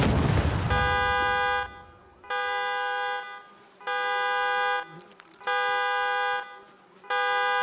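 In the video game Project Zomboid, a loud bombing blast erupts up close, then a harsh buzzing alarm tone pulses on and off in a steady repeating rhythm, with faint crackling underneath.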